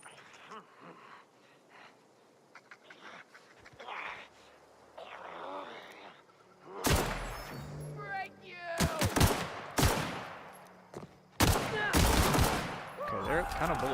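Bursts of automatic gunfire from The Outer Worlds video game, rapid loud volleys in the second half following a quieter stretch of ambient game sound and soft breathing-like noise.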